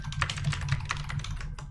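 Rapid, steady clatter of computer keyboard typing, close and continuous, keys tapping in quick irregular bursts with a low hum beneath.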